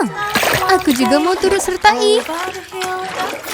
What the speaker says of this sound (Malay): Kok aku dengar bunyi percikan?